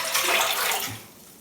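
About a litre of water pours into a cooking pan for miso soup, a brief splashing gush that tails off toward the end.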